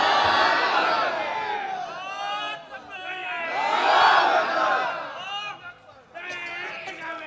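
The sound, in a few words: crowd shouting takbir at a religious gathering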